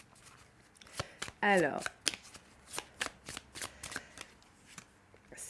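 Playing cards riffled in one dense, rapid burst of fluttering snaps, preceded and followed by scattered single card flicks and taps, with a brief spoken word in French near the start.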